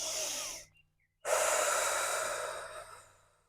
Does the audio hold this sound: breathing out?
yes